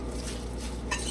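A spoon stirring a salmon patty mixture with panko in a bowl, giving short soft scraping and knocking sounds at close range.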